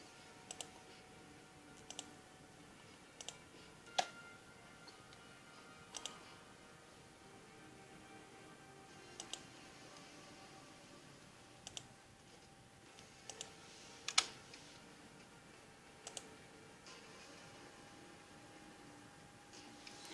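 Sparse keyboard typing on a computer, isolated key clicks every second or two spread over a long stretch, fairly faint against a quiet room hiss, no talking.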